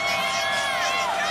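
A big crowd roars steadily at the 2016 college football national championship game between Alabama and Clemson, a dense, continuous wash of cheering and shouting from many voices, loud and sustained throughout.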